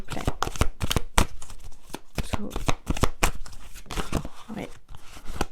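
Tarot cards are shuffled by hand in quick, crisp riffling bursts, repeated in an uneven rhythm with short pauses, close and clear.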